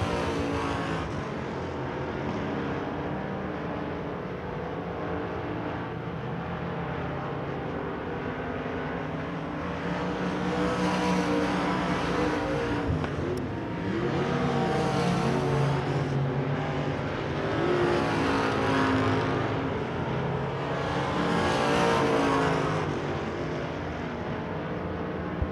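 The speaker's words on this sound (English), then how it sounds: "Heat race number 1 for your Everclear Autoglass USRA Limited Modifieds." USRA Limited Modified race cars run a heat race on a speedway, a constant roaring pack of engines that swells in repeated waves as the cars pass near and then pull away, with no announcer heard over it.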